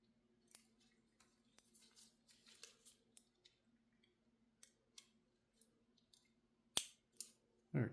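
Small connector pressed into a GoPro Hero 12 Black circuit board during a GEPRC naked camera kit build: a few faint, sharp clicks and ticks spread out close by, with one louder snap near the end.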